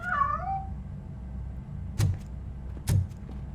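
A cat meows inside the video game Robocop: Rogue City, a short wavering cry near the start. Two sharp thuds follow over a steady low background hum.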